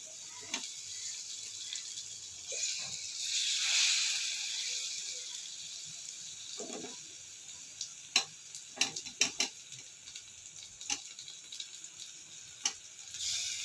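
Banana fritters (pazhampori) go into hot oil, making a soft hissing sizzle that swells, then a scatter of sharp pops and crackles in an otherwise quiet kitchen.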